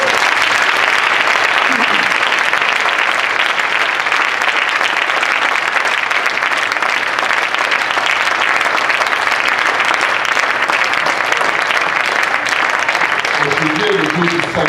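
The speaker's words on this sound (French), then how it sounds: "Est-ce qu'on peut acclamer le Seigneur?" A church congregation applauds loudly and steadily throughout, with dense sustained clapping and crowd noise that fills the space and voices rising beneath near the end.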